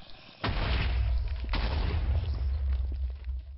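Explosions in the Minecraft video game, a sharp boom followed by a sustained loud rumble and a second blast about a second later, low and heavy with no talking over it.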